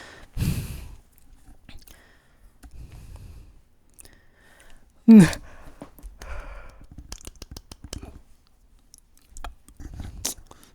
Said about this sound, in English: Okay, enough yawning.